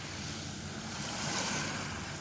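Steady ocean surf washing continuously on a clear, sunny day, a broad even rush with a gentle swell in the middle, mixed with some wind noise on the microphone and no voices.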